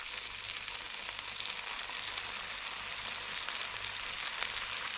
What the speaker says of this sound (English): So I'm just going to slap in the bass fillet